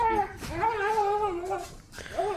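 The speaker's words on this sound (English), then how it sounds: "The dog is willing." A dog whimpers and whines close by, a few drawn-out, wavering high-pitched cries rising and falling with short breaks between them.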